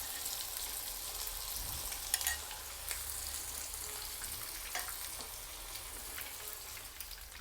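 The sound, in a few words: chicken pieces deep frying in oil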